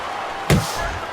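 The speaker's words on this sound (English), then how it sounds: "Little head knocking with that right hand." A boxer landing a right-hand punch to the head in the boxing game Fight Night Champion: a single sharp, loud thud standing out against a steady crowd and arena murmur.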